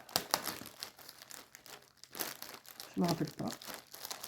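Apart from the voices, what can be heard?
opening a Temu parcel, crinkling packaging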